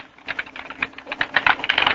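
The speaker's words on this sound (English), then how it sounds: "Typing in Google." Rapid keystrokes on a computer keyboard as someone types a search into Google, a quick irregular patter of close clicks with no voices.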